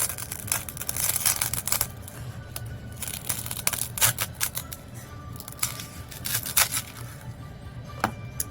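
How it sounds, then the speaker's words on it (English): A styrofoam ball being cut in half with a blade or scissors, close up: a run of irregular crunching, squeaking cuts and scrapes with uneven bursts, no voices. "Now, we cut our styrofoam ball in half."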